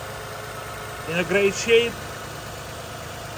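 A 1998 Toyota Mark II Qualis with its V6 2.5 liter engine idling, a low steady hum running beneath a man's brief spoken remark.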